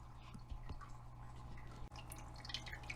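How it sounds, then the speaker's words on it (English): Water drips slowly into a container while aquarium fish are drip acclimated in a darkened room, with a few soft, faint plinks over a low steady hum. "They've been drip acclimating now for probably close to 45 minutes."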